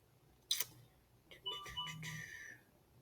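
A mobile phone rings during a lecture, a faint electronic ringtone of short tonal bursts following a brief sharp click, heard alone in an otherwise quiet room.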